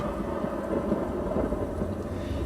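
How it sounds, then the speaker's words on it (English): Deep, sustained rumbling thunder from a sound effect set off by a sensor built into a prop, a steady loud roll with no clear breaks. "So the bigger and more forceful the outward thrust, the more intense the thunder will be."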